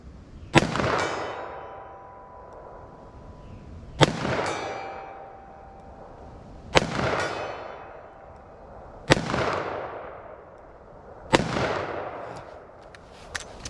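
A .357 Magnum snub-nose revolver with a 2-inch barrel fires five sharp, loud shots spaced a few seconds apart outdoors, each followed by a ringing echo that fades.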